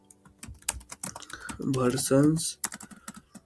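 Rapid clatter of keys on a computer keyboard, close and crisp in irregular bursts, with someone speaking briefly over the typing.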